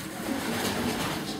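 Racing pigeons coo in a loft, a soft low murmuring call over a steady hiss of room noise, close and brief.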